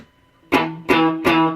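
Single guitar note on the 7th fret of the A string, struck three times with downstrokes through a distorted tone, each attack ringing with a sustained harmonic tail, close and alone.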